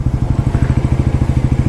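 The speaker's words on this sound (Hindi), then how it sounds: "एक बार ये फिर से इसका एग्जॉस्ट सुन लो" Stock exhaust of a 2026 Bajaj NS 400Z motorcycle idling at low RPM, a steady, loud, close-up pulsing thump repeating about ten times a second with no voices.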